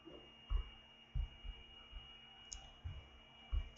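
Mouse button clicks while agreeing to a software installation, five or six sharp, separate clicks at irregular intervals, close and distinct over a faint steady hum.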